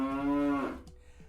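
A cow mooing once, a single long, loud, close low call that fades out, followed by quiet.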